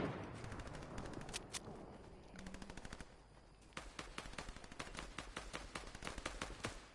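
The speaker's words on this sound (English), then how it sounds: "I can hear shooting down here" Rapid automatic gunfire in a shooter video game, heard as steady bursts of machine-gun shots at a distance, sparser at first and then denser, with no talking.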